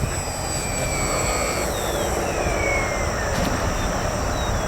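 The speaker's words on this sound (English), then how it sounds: "as the plane's getting close, we flip it over and land it" A radio-controlled model airplane comes in to land upside down, its engine giving a steady whining buzz with gliding pitch changes, heard from a moderate distance over constant wind and background rumble.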